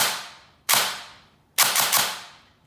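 A T238 gel blaster fitted with a MOSFET and hair trigger mod fires close up at about 15 rounds a second: one sharp snappy shot, then a short rapid burst of several cracks, each decaying quickly.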